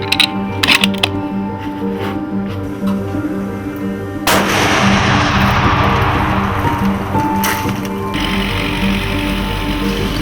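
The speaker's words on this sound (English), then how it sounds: "Now's my chance to shoot the rifle with 165 grain." A rifle firing a Weatherby 165 grain bullet on a Dall sheep hunt, one loud sharp blast followed by a long rolling rumble, with mechanical clicking and handling noise before it.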